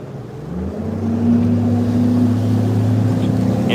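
Fishing boat outboard motor droning steadily during a bass fishing tournament, a loud continuous hum that rises in pitch and holds, with splashing water under it.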